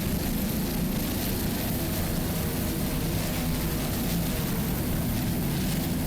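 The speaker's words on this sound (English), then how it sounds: "525 horsepower inboard engines with Mercury number 6 Speedmaster drive." Offshore racing powerboat with 525 horsepower inboard engines and Mercury number 6 Speedmaster drives, running at the Miami Offshore Grand Prix; a loud, steady, roaring engine drone with broad rushing wash persists throughout without pause.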